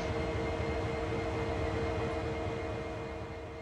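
Locomotive on a turntable in Train Sim World, a steady low mechanical hum with faint tonal whine, constant and unbroken with no voices.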